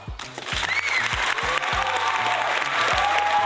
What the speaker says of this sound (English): I think you might have got the most applause I ever gave out in an interview.